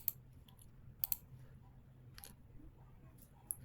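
A computer mouse clicks quietly while someone works in hospital discharge summary software: a few faint, sharp clicks, one quick double click, spaced irregularly over a low, steady room hum.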